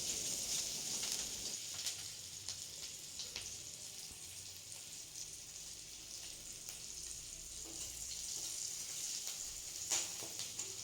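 Onions frying in oil in a pan for an Odia rohu fish curry, a steady close sizzle and crackle with scattered pops and faint stirring, no talk.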